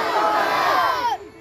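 Large crowd shouting a religious slogan in unison in reply to a Naara-e-Takbeer call, a loud, massed roar of many voices sustained for over a second before cutting off abruptly.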